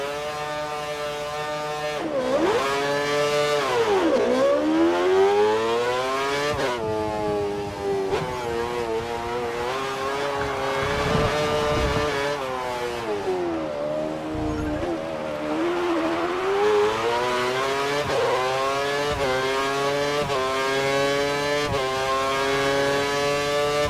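A Formula 1 car engine in the racing game F1 2013, accelerating out of a corner with a loud, continuous high-pitched whine that climbs, dips and climbs again as gears and revs change, with no voices.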